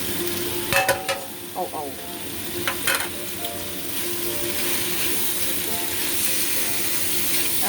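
Pork and vegetables fry in a pan with a loud, continuous sizzle, punctuated early by a few sharp clinks and scrapes from stirring, then settling into steady frying; someone murmurs briefly.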